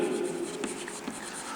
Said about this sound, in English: We can write it here